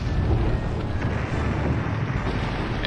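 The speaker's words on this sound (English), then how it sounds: "these rockets going off right now are going to hit him" Rockets exploding in the video game Ring of Red, a loud, continuous rumbling barrage of booms with no clear gaps, close and dense throughout.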